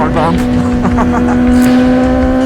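Motorcycle fitted with a Moriwaki slip-on exhaust riding at night, a loud steady engine drone with a strong sustained tone and rising rev flutters, close and continuous, with a voice talking over it.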